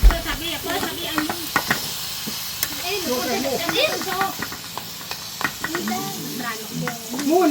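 Beef sizzling in a frying pan gives a steady hiss that runs throughout, with stirring scrapes now and then and people talking over it.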